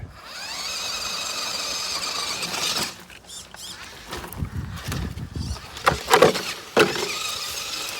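Redcat RidgeRunner RC car whirs and whines with its electric motor while crab steering across dirt, the buzz rising and dropping with bursts of gravel patter and scrabbling tires nearby.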